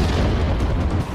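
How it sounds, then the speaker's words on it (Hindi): An explosion goes off beside the wall of a CRPF school in Prashant Vihar, Rohini, Delhi, on a Sunday morning: a loud, heavy boom that fills about a second before easing slightly. "धमाका हुआ।"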